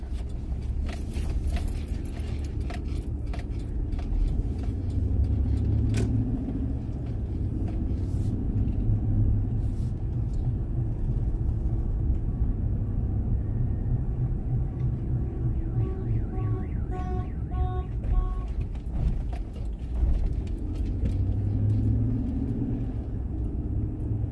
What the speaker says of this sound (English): Here come the car coming this way.